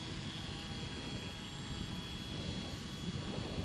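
Aircraft in a video game droning steadily as it comes in to land, a continuous engine hum at moderate level with no talk.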